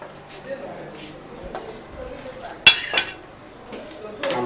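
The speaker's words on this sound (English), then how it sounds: "I'm turning it to mix it together." Dry fish gets stirred in a cooking pot, with soft scraping and a few sharp metallic clinks of utensil against pot, while a voice talks nearby.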